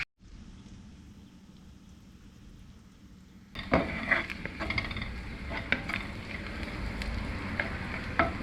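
Garlic and onion sizzle in a hot pan, a quieter frying hiss that jumps sharply louder partway through as the onion goes in, with steady crackling and a few clinks of a utensil.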